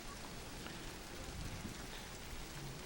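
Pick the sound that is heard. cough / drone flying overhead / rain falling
rain falling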